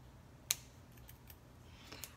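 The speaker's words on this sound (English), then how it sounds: "You just want to snip those so they're kind of close or in the similar location" Scissors snipping burlap for a wreath, one crisp close snip followed by a few fainter cuts in a quiet room.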